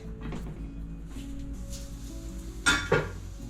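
Two sharp clinks of a glass canning jar filled with meatballs in tomato sauce or beef broth knocking into a metal canner, close and distinct after a stretch of low kitchen noise.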